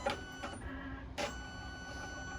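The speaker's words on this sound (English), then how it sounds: "it's going to color change back to the correct needle for us" A Melco embroidery machine shifts its needle case during a colour change, giving a few short mechanical clacks and a whirring shuttle over steady background hum, with no talking.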